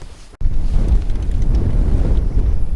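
Cold winter wind blows across open water during bass fishing, loud and close, buffeting the microphone in a heavy low rumble after a short break.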